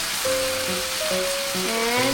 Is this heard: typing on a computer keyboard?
no